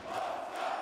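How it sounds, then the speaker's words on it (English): Handball fans in the arena at a Poland versus France EHF Euro 2014 match cheer and shout, a steady roaring crowd heard at moderate distance without distinct talk. "the fans, along with what appeared to be a large amount of the neutral supporters in the arena here, cheering on the Poles"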